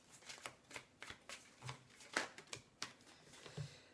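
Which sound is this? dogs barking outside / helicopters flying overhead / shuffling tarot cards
shuffling tarot cards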